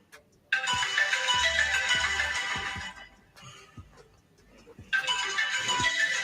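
A phone ringtone plays in two bursts, a long melodic stretch that drops away before a second burst returns, fairly loud with no talking over it.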